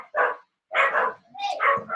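Dogs bark nearby in a run of four or five loud, ragged yaps spaced by short pauses, some overlapping into a yelp.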